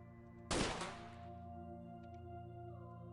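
Minigun firing in the video game XCOM, a single loud burst that erupts abruptly and trails off into a lingering ringing tail over a steady low game hum.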